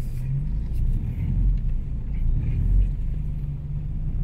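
A car drives at the Kaamulan festival in Malaybalay, giving a steady, close low engine and road rumble that continues without a break.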